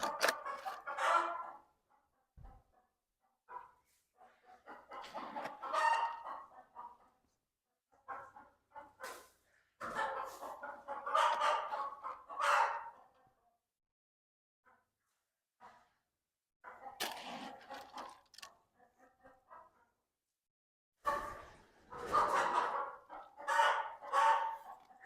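A hen that has fallen down a 50-foot well clucks and squawks in repeated agitated bursts, with short quiet gaps between calls and no talking.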